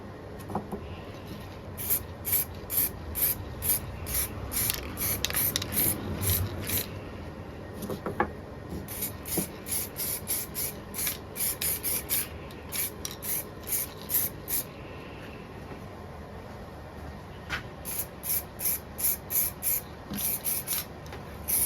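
Short bursts of an aerosol spray can coating MG front fog light brackets with paint, hissing in rapid repeated pulses with brief pauses between groups, close and steady over a low room background.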